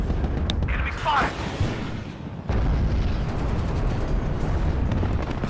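Explosions and heavy fire pound an Abrams tank in the war game WARNO, a steady roar of rumbling blasts and booms, with a sharp burst and a sudden louder impact partway through.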